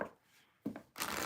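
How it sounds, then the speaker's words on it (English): Tarot cards being shuffled up close, with a soft riffle near the start and then two louder bursts of flicking and fanning card noise, the last one sustained to the end. "I'm going to shuffle and read the chat before we get to Scorpio"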